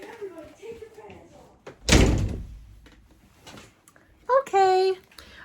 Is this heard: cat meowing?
no